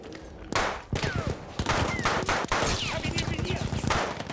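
Sidearm gunfire in a Battlefield campaign, a string of loud, sharp shots in rapid bursts with game effects mixed underneath, fired close up.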